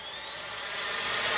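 An E-flite F-16 Thunderbirds RC jet with a 70mm electric ducted fan on a 6S battery whines in flight. A thin high-pitched tone rises slowly over a broad rushing hiss that grows steadily louder.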